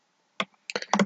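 Computer keyboard keys tapped in a short burst, one isolated click followed after a pause by a quick run of several clicks, close and fairly clear with no talking.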